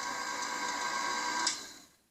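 A mixer blends butter into the dry ingredients for a chocolate devil's food cake, making a steady, fairly quiet whir that runs evenly and then cuts off near the end.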